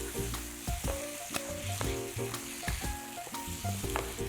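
Mixed ingredients and sauce stir-fry in a pan, a constant close sizzle overlaid with brisk, regular scraping and tapping of a spatula against the metal, no voices.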